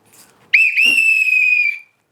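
A single whistle blown once, loud and close, a steady piercing tone held for about a second and a quarter before cutting off, after brief faint sounds.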